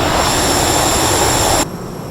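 Jet engine roar from an SU-27 Flanker in MSFS 2020, a loud steady broadband rush with a high whine that cuts off sharply near the end, leaving a quieter hum.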